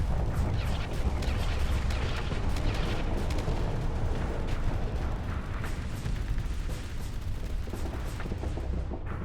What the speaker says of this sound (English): Every time I start shooting